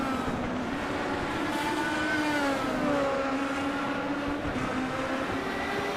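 Classic Indy cars in a sim racing game circle Watkins Glen, a steady high-pitched engine drone with gliding pitch sweeps as several cars pass, constant and fairly loud with no talk.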